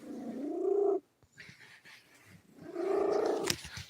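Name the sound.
big cat purring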